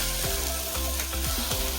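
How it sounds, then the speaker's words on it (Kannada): Pineapple pieces fry in ghee in a pan with a steady, close sizzle, broken by a few soft stirring scrapes. "ಈಗ ಇದಕ್ಕೆ ಪೈನಾಪಲ್ನ ಹಾಕೊಂಡು ತುಪ್ಪದಲ್ಲಿ ಫ್ರೈ ಮಾಡ್ಕೋತೀನಿ."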